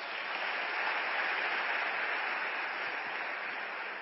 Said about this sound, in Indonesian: aplaus buat Anda semuanya